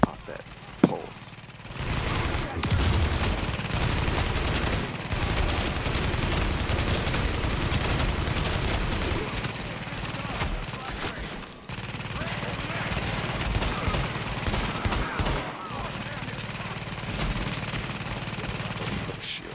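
Sustained automatic fire from a deployed turret in The Division, a dense, loud, unbroken rattle of rapid shots lasting the whole stretch with only brief dips, amid a chaotic firefight.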